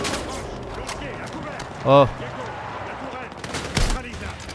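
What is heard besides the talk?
explosions and gunfire in the Battlefield 6 video game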